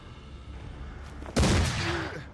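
Rifle gunshots in the video game Mordheim: one sharp, loud report hits over a low background hum, followed by a sustained noisy decay as the shot echoes out.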